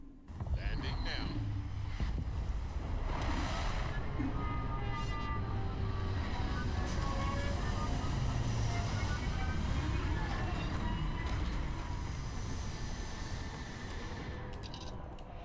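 A spaceship comes in to land in Starfield with a sustained, loud roaring rumble of engines and wind that swells, holds steady, then eases toward the end.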